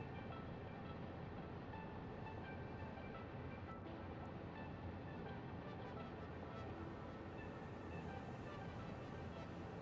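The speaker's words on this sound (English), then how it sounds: "It just goes from Illumina to Concrete Oasis and back again. That's all this train does." A video game train shuttles between two stations, a steady, even rolling rumble with faint rhythmic clicking that holds at one level throughout, with no voices over it.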